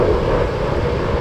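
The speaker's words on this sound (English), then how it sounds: "Check out that plane." An airplane drones steadily overhead somewhere in Miami, a broad low rumble with wind buffeting the microphone and no voices.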